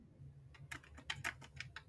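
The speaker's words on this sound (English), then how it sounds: "What you cackalack banging over there on your keyboard for?" Fingers tap quickly on a computer keyboard in an uneven burst of keystrokes, moderately close, over a low steady room hum with no talking.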